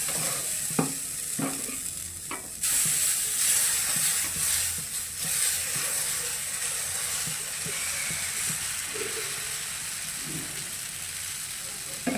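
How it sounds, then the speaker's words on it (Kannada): Dosa batter sizzling on a hot pan greased with onion, a loud continuous frying hiss that jumps up sharply partway through, with scraping and stirring knocks at the start. "ಇವಾಗ ಈರುಳ್ಳಿಯಿಂದನೇ ಮತ್ತೆ ಸವರ್ಬಿಟ್ಟು ಮತ್ತೆ ಹಸ್ಬೆಂಡಿಗೆ ದೋಸೆ ಹಾಕ್ತಾಯಿದ್ದೀನಿ ನೋಡಿ"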